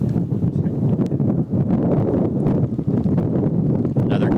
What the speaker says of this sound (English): Another gust coming in.